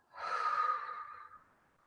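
A single deep breath drawn in and slowly let out during a guided chakra meditation, soft and close with a gentle airy rush that fades away, no talking.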